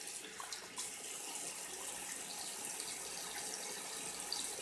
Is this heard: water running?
yes